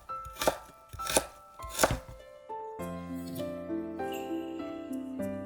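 A knife chops fresh ginger on a board in three sharp, evenly spaced strokes up close, then a sustained chiming musical tone takes over with no further cutting.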